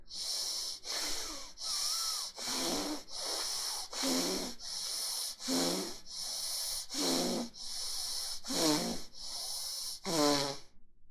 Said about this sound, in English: start with the belly breathing, little longer breath